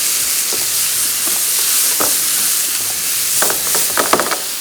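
Chopped onions and tomatoes cooking in oil in a pan give a steady, loud sizzling hiss, with occasional scraping stirs and crackles rising near the end.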